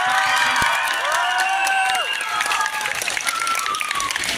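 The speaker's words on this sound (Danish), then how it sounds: "Giv ham lige et kæmpe bifald!" A large crowd gathered at a shopping centre event claps steadily and cheers for a performer, with whoops and shouts rising over dense continuous applause.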